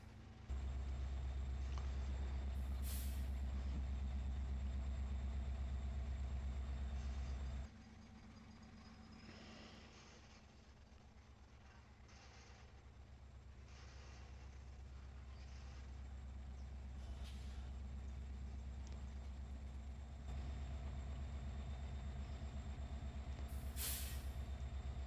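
A locomotive in the Farming Simulator game, a loud, deep diesel rumble that drops to a quieter idle partway through, then builds back up, with periodic sharp hissing bursts like air brakes and no voices.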